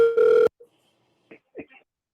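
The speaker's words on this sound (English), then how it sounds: "Oh, we have another phone call" A telephone gives one steady electronic ring-tone burst, loud and close, then stops, followed by a few faint soft knocks and rustles.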